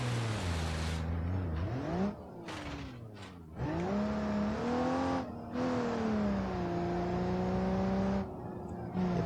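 Engine of an ETK I-series car in BeamNG.drive on a Swiss Alps ski jump, droning and revving steadily with pitch climbing and falling between gear changes, loud and close, with brief dropouts.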